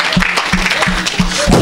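A church congregation cheers and claps during a lively French-language deliverance service, a steady wash of crowd noise with repeated strong beats every few tenths of a second and no clear speech standing out.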